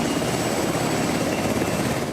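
Continuous loud roar of a military National Guard helicopter, steady rotor and engine noise filling the whole moment, close by with no voices.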